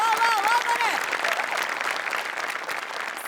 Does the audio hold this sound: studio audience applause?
yes